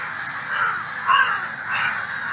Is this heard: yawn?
no